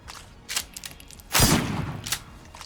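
A shotgun fires in the video game Killer Inn, one heavy booming blast in the middle amid lighter clicks and clatters of gameplay, fairly close with no talking.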